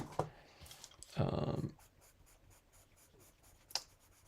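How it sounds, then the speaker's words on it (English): A pastel pencil drawn over colored pencil on paper makes quiet, close scratching strokes, with one longer rubbing burst near the start and brief taps scattered after. "I'm seeing if this accepts the pastel pencil over the top of the brilliance"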